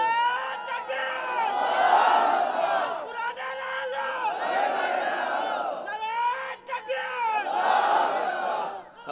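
A large crowd at an Islamic religious sermon (waz) chants slogans in unison, three long loud swelling shouts, each rising and falling, with brief pauses between them.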